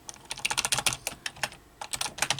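Computer keyboard typing comes in quick, close, crisp bursts of keystrokes, with a short pause partway through before the rapid clicking resumes.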